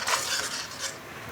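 Spices being stirred in a cooking pot for chicken kofta curry, giving a few close scraping and clinking strokes of a spoon against the metal pot in quick succession.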